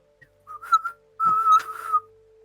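Someone attempts to whistle twice, producing breathy, wavering notes that keep breaking. A steady faint electronic hum runs underneath.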